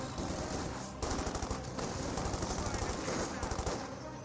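Dense gunfire in the Company of Heroes 2 strategy game, a sniper and a machine gun firing amid battle noise, with rapid continuous bursts and sharp cracks throughout and a voice talking faintly underneath.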